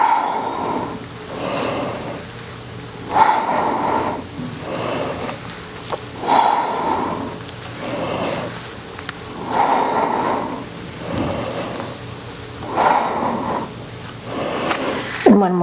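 Rhythmic yoga breathing during single-leg squats, with slow audible inhales and exhales repeating roughly every two to three seconds, close and breathy with soft sniffing tones and no talking.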